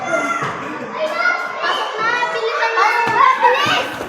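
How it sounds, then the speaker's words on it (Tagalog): A crowd of noisy children plays at an elementary school during a food-pack giveaway, many young voices shouting and chattering at once in a dense, lively babble close by. "Ang ingay ng mga bata."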